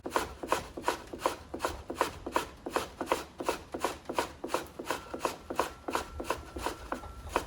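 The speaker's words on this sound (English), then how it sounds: "Grated the carrot." A carrot being grated by hand, with steady rhythmic rasping strokes repeating quickly and evenly throughout, close and fairly loud with no voices.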